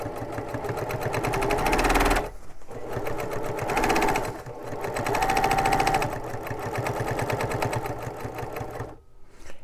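A Baby Lock Accomplish sewing machine stitches a tote bag, running in fast rhythmic bursts of needle chatter with short pauses between runs, close and loud with no talking.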